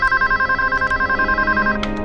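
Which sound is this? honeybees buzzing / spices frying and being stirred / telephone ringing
telephone ringing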